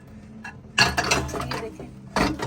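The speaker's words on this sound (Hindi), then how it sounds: "ये देखिए बर्तन धोए जा रहे हैं यहाँ पे।" Dishes are washed at a wild campsite in the Black Forest, with metallic clinks and clatters of pots and utensils in short bursts at close range, set against a faint background hum.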